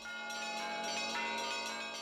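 Traditional Russian church bells ring in the Pokrovsky Cathedral bell tower in central Moscow, a loud, dense wash of overlapping clanging tones that sustains without a break.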